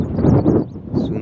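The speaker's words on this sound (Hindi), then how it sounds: "ठंडी ठंडी हवा चल रही है ज़्यादा" Cool desert wind gusts steadily across the microphone, a loud continuous rushing roar with no voices.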